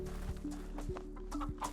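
A chicken in the DayZ survival game clucks in a steady run of short, evenly spaced clucks, close and clear over a low, continuous game ambience.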